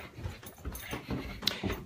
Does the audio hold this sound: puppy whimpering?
yes